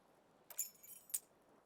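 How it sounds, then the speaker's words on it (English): Keys on an aluminium keyring jingle inside the pocket of flare-cut pants in the video game Disco Elysium: two short, bright metallic clinks about half a second apart, quiet and isolated against near silence. "You hear a jingle. These are clinking in the pocket of your flare-cut pants."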